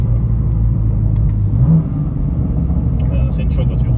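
A car drives along a road with a steady low engine rumble and tire drone from inside the cabin, a brief faint rise in engine note midway, and a murmur of voices in the background.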